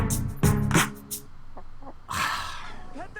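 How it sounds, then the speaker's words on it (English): Clucking chicken in the video game Carry On Horizons, a few short close clucks and squawks in bursts, with a voice and game sounds around them. "Pet the chicken, pet the chicken."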